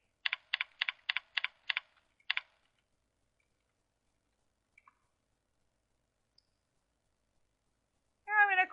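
Quick bursts of keystrokes on a computer keyboard, about seven taps in a row, close and clear in a quiet room, followed by silence and a brief voice at the end.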